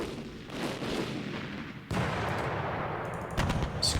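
Werfer rocket artillery fires in the wargame Panzer Campaigns Bulge 44, a loud rushing salvo with a sharp jump in intensity partway through, then crackling, rumbling blasts.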